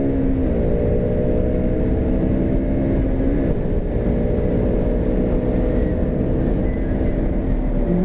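A 200cc motorcycle accelerates along an open road, its engine droning loud and steady for about eight seconds with the pitch climbing and dropping back through several gear changes.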